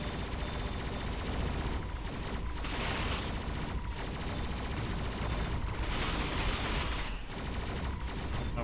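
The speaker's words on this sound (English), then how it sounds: "Just wanted to see how fast the missile shot" Missile fire in the drone video game D.R.O.N.E., a dense, loud barrage of explosive bursts and gunfire-like blasts that continues without a break, with no voices over it.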